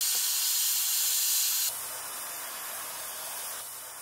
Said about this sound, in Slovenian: sem vklopila svoj ekonom lonc